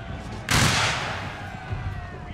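Musket volley crashing out in a video game battle, one loud burst of gunfire that decays into a rumbling roar.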